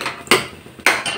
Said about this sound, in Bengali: আর পটল আলুটা কাটছি, দেখো পটল কাটছি